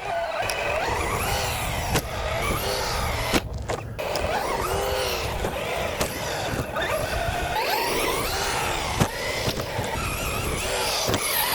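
Arrma 1/8 Typhon 223S radio-controlled car on a 2S 5000 mAh battery, its electric motor whining up and down in rapid pitch sweeps as it accelerates and turns, with sharp clatters and bumps from the chassis hitting the ground.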